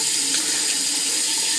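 Water runs steadily from a tap into a sink during face washing, a close, constant hiss and splash with no pauses.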